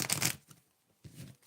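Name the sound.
shuffling tarot cards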